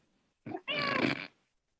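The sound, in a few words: cat meowing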